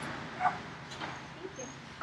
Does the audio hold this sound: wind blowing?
no